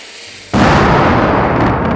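A musket in the VR game Dungeon Knight fires once, a sudden loud blast that cuts in after a quiet moment and leaves a dense, lingering roar of noise.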